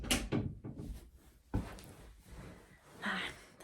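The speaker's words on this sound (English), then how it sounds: "There I was, opening and closing the door" A door is opened and closed indoors, giving a few soft thuds and a brief scrape and latch click, close and quiet, with faint breathing between the knocks.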